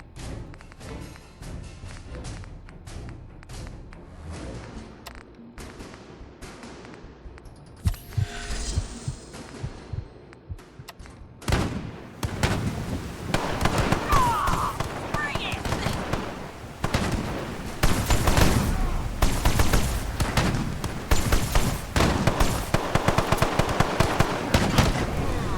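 Shotgun blasts in a post-apocalyptic survival video game, sharp gunfire bursts mixed with other combat noise and player voice chat, growing louder and denser in the second half.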